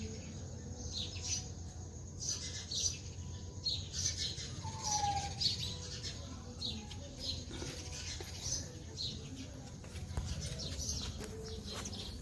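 Local house-dwelling birds at nest boxes, faint scattered chirps and tweets with soft cooing and occasional wing flutters over a low background rumble.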